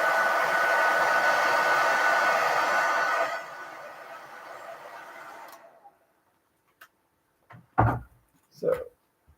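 A hair dryer blows steadily and loudly on fresh paint for several seconds, then winds down and fades, leaving a few clunks and knocks of handling afterward.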